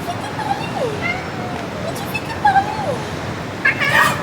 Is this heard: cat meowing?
yes